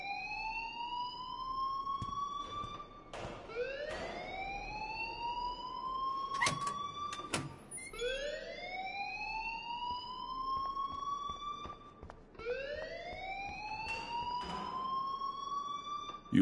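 A fire alarm in the video game Life Is Strange wails in rising electronic sweeps, repeating about every four seconds, loud and steady, with a few sharp clicks between cycles.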